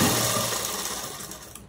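A sewing machine stitches a saree blouse in one fast, continuous mechanical whirr, close and loud, running steadily before stopping abruptly near the end.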